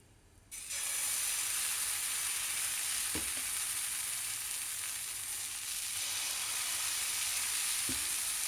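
Dosa batter is poured onto a greased hot pan and bursts into a loud, steady close sizzle that keeps going, with a couple of faint knocks from a spoon.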